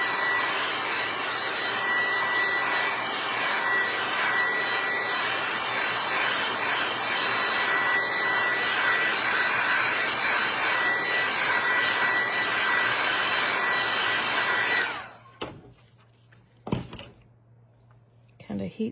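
A hair dryer blows steadily and loudly at close range, drying paint on a decoupage tray, a constant whooshing whine for about fifteen seconds before cutting off, followed by a few soft clunks.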